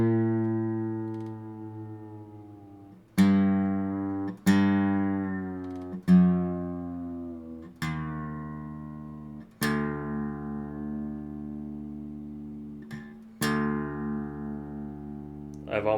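A guitar's fourth string, the D string, is plucked repeatedly while being retuned from well off pitch, each ringing note decaying before the next pluck, about seven plucks in a loose, even rhythm.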